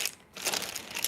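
Tarot cards being shuffled by hand, a soft papery riffling and crinkling that pauses briefly, then runs on steadily, close and fairly quiet.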